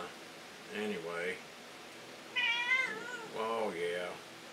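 Pet cat Blinky meows several times in drawn-out, wavering calls spread across a few seconds, close and clear over a light background hiss, with no one talking.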